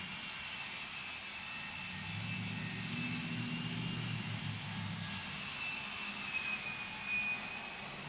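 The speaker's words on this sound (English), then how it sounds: "we've got the noise back with some construction going on" Distant construction noise nearby, a steady low mechanical rumble with faint tonal whine above, swelling slightly in the middle and running continuously with no talk.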